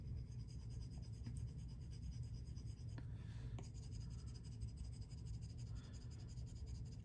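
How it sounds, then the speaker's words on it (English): Stylus shading strokes with the side of the pencil tip at light pressure on a tablet screen in Procreate, a steady soft scratchy rubbing that runs continuously, faint and close. "light pressure all the way back on the end of my pencil using the side of the pencil, not the tip"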